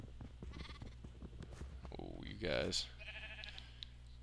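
Cows in the Peppino's World video game bleat and low in a short burst near the middle, heard alongside game sounds and someone talking.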